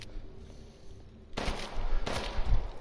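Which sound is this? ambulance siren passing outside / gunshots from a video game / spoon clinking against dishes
gunshots from a video game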